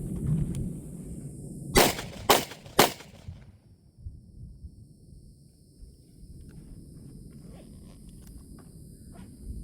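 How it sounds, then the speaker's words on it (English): Three sharp, loud shots from a Smith & Wesson 686 Plus .357 Magnum revolver with a trigger job, fired in quick succession from a draw at a target seven yards away outdoors, followed by faint rustling and quiet ambience. "So those are the 3 shots."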